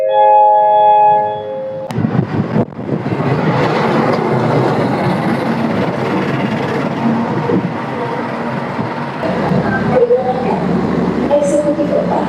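A Parahyangan passenger train locomotive shunting at a station, loud rumbling and rolling rail noise with clanks, following a short station chime at the start, continuous and close.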